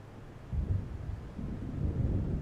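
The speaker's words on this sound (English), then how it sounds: "It seems there's a storm coming." Low rolling thunder of an approaching storm in the video game Alan Wake Remastered, a deep rumble swelling after half a second and holding steady, with wind-like noise and no talk.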